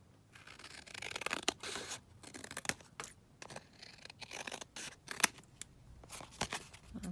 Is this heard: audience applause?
no